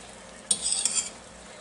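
Maple syrup with a little butter boiling in a pan, a soft frothy hiss with a brief crackling, scraping burst of bubbling in the middle, close and fairly quiet.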